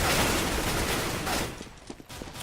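Rapid gunfire from a CS:GO match on Dust 2 between G2 and EnVyUs, with a dense barrage of shots at the start that thins into scattered, fainter reports.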